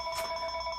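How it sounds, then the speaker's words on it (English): A telephone bell rings once in a brief, steady electronic trill of two tones, moderately loud against a quiet background. "The phone's ringing"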